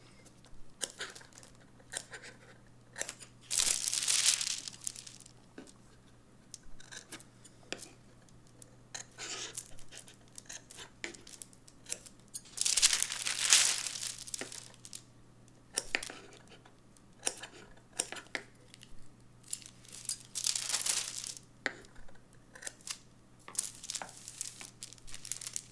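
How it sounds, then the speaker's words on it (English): Scissors snip notches into muslin fabric while a blouse prototype is cut, giving a few short crisp bursts of cutting and rustling cloth spaced apart over faint room noise. "Snip your notches."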